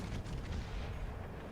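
Heavy naval guns boom as a warship fires armor-piercing shells in World of Warships Legends, a dense, rumbling burst of gunfire lasting about a second and a half, loud and close with no voices.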